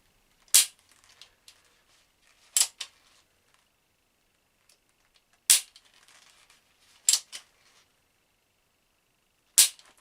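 Five sharp snapping shots spaced a few seconds apart from a cocked replica gun fired while wearing UK police public order riot gloves, each crack followed by a small click or rattle, close and alone with no talk.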